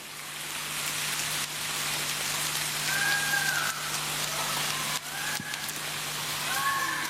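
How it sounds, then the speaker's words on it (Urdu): Heavy, continuous rain hisses steadily as a dense, even wash of noise, with a low constant hum beneath and a few faint tonal sounds drifting through. "شدید بارش ہے, مسلسل بارش ہے, مسلسل برسنے والی بارش ہے"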